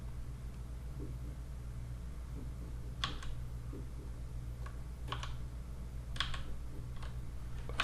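Keys clatter on a computer keyboard during 3D modeling work, a few quick clustered presses in short bursts over a steady low hum, close and fairly soft, with no voice.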